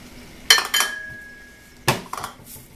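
Dishes clatter in a home kitchen as a bowl is pulled out: two close, sharp clinking bursts a moment apart, then a third clatter after a pause, with a faint ringing tone lingering between them.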